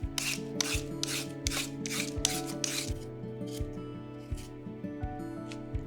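An orange sweet potato being peeled by hand, a rhythmic series of rough scraping strokes, about eight loud rasps at first, then softer, sparser scrapes, close up with no talking.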